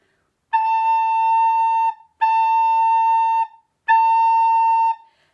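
A recorder playing the note A three times, each a steady clear held tone of about one and a half seconds with short silent gaps, close and fairly loud, no talking.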